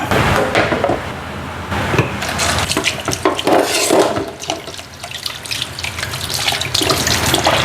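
Cassava being washed by hand under a running kitchen tap, water splashing and sloshing steadily over the root with brief clattering and rubbing, loud and close throughout, no talking.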